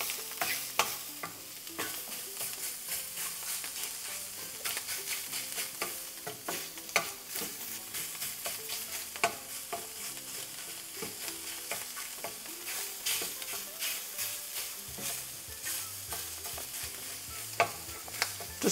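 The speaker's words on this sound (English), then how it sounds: "All the fat in that sausage is gonna render out, but it's gonna have like a sticky beginning, and you really wanna start with a hot pan" Sausage frying in a hot pan as its fat renders, a dense, continuous crackling sizzle heard close up, broken by frequent little pops and scraping stirs, with no one talking.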